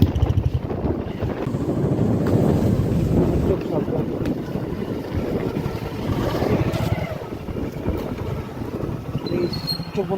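Super Cyclone Amphan lashing Kolkata, with a broad, continuous roar of storm wind buffeting the microphone for the whole stretch, loud and unbroken with gusty swells.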